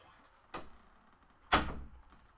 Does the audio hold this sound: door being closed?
yes